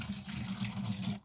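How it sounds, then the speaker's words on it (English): Strained banana tea liquid is poured into a watering jug, a steady close splashing stream that runs evenly for about a second before cutting off. "I'm going to be pouring that into my watering jug"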